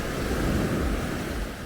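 Ocean surf at a beach by the mouth of Cabo San Lucas harbor, a brief, steady wash of waves mixed with wind rumble on the microphone.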